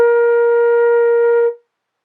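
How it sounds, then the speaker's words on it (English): A single sustained B flat on a flute rings steady and clear for about a second and a half, then stops with a brief fade, played alone. "B flat sounds like this."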